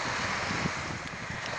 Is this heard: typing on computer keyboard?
no